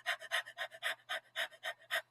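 A person imitates a dog panting: quick, rhythmic, breathy huffs, about a dozen evenly spaced puffs at close range with nothing else heard.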